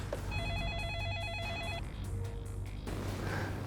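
A telephone rings with a bright warbling electronic trill for about a second and a half. Then comes a brief tone and some room noise, all fairly quiet and with no voices.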